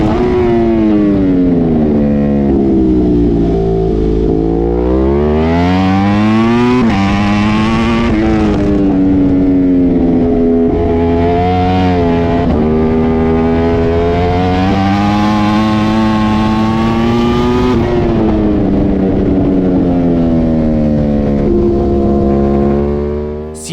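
A Pirelli Cup racing engine is held at full throttle on track at Vallelunga, heard close and loud. It screams steadily, with revs rising and falling through gear changes and corners, and no speech over it.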